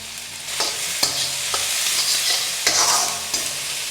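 Onions, green chillies and curry leaves fry in an iron kadai with turmeric and salt, a steady close sizzle punctuated by regular scraping strokes of a stirring spoon.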